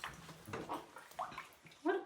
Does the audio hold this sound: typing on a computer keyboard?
no